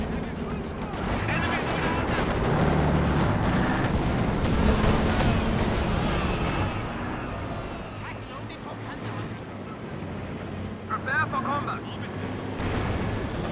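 Heavy LFH artillery barrage in the strategy game Company of Heroes 2, with dense rumbling blasts and booming explosions layered over one another, loud and sustained under continuous commentary, easing slightly toward the end with scattered sharper impacts.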